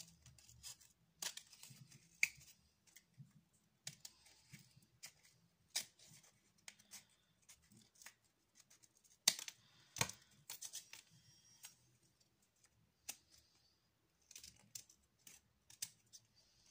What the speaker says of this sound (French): Voilà, j'essaye de couper ça bien.